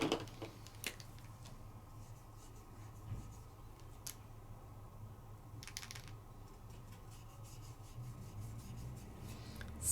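A Wink of Stella glitter marker colors across black paper, giving faint, soft scratchy strokes that run steadily under a quiet room hiss.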